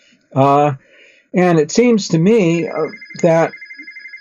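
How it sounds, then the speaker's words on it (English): A telephone rings in a room, a steady electronic tone running beneath a man's close conversational speech. "that's my phone ringing"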